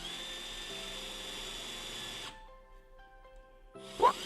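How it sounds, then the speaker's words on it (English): An electric drill bores through the metal frame of a Sobowo 2050/2450 electric tricycle, a steady close whine for about two seconds that cuts off, followed by quiet and a brief sharp noise near the end. "Now we've drilled through"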